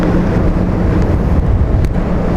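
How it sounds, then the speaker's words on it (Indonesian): Strong wind buffeting the microphone on a cruise ship's open deck, a steady loud roar with low rumble throughout, no voices. "Aku sendirian karena anginnya kencang banget"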